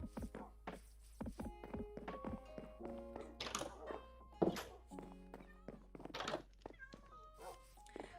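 A cat in the Minecraft video game gives a few short meows among light taps and thunks of game sounds, with a quiet voice talking over parts of it.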